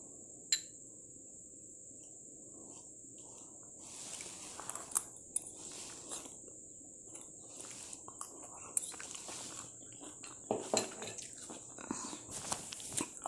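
Close, soft chewing and biting on banana flower stir-fry (vaalaipoo poriyal) while tasting at home, with irregular mouth sounds over a steady high insect-like background hum.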